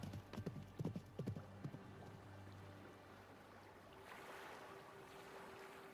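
Horse hooves clip-clopping in an uneven run of hits early on, fading out under a steady hiss of water or surf within a fantasy tabletop game scene.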